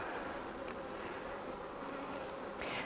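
Honey bees buzzing around an open hive on the first day of spring, a continuous soft drone with no talking in between.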